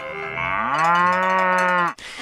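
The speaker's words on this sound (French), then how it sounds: "Il y a les vaches, et pas n'importe lesquelles, celles de Hugues Dersel." A cow on a Swiss farm gives one long, loud, close moo that holds steady and then cuts off, with no voices around it.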